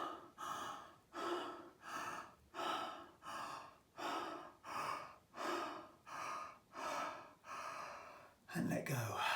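Repeated slow breaths, roughly ten evenly spaced swells, drawn in and released during a diaphragm breathing exercise at a wellness festival, fairly loud and close, with a brief rougher sound at the end.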